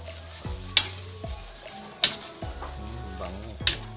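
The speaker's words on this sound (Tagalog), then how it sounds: "Tapos haluin natin." A utensil stirs chicken cooking in a pan for ginataang manok, chicken in coconut milk. Three distinct metallic clanks strike the pan about a second and a half apart over a low background.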